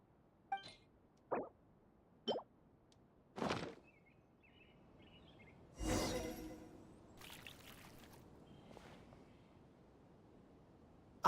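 In Genshin Impact, water is poured amid light game effects: several short clinks and plops, then a brief splashing pour, followed by soft trickling and faint chimes, all fairly quiet.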